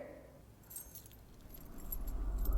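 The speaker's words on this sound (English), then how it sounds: "I came to get my keys." Keys jangle in a brief metallic chiming burst near the start, then a low rumble swells beneath.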